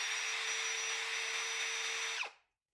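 Cordless brushless screwdriver, a Ryobi R18DDBL or DeWalt DCD 791, whines steadily at high speed with a constant pitched motor tone, then winds down and stops abruptly near the end.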